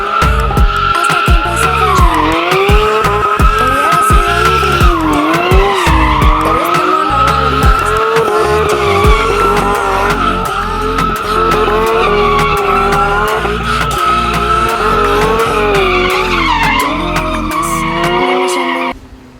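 A brand new Porsche GT3 RS drifting, with tires skidding and squealing continuously over a loud, revving engine, close and sustained for the whole stretch before cutting off at the end.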